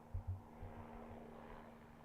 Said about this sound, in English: the helicopters are out here in Long Beach